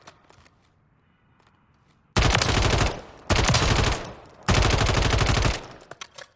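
An IWI TAR-21 rifle fires on the firing range in Call of Duty Modern Warfare III, with three long loud bursts of rapid automatic fire after a quiet start, each ending with a short break.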